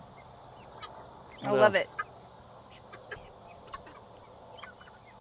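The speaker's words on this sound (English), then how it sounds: "Good job, birds. The tick team, the bird army." A loud honking squawk from outdoor fowl that eat ticks and other bugs, followed by scattered faint chirps and clucks at a distance, with a person speaking briefly.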